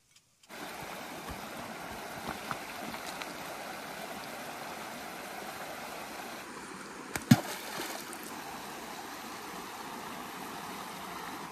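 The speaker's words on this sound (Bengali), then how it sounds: "এইভাবেই চা বাগানে জল দেওয়া হয়" A rotating water sprinkler irrigates a tea garden, a steady rushing spray of water running continuously and close, with a brief sharp knock partway through.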